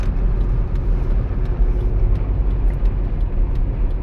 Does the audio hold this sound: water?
no